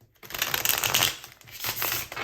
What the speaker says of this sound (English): I'll try to give you one good shuffle